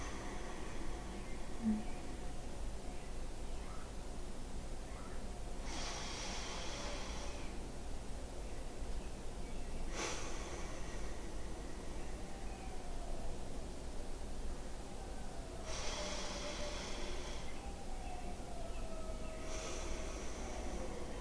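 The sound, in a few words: inhaling deeply through the nose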